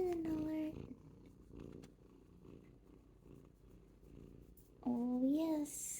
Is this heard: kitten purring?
yes